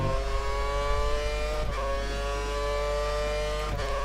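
Formula 1 Lotus engine in the F1 2013 racing game at Bahrain, a steady high-revving whine held loud and close, broken twice by quick gear-shift dips.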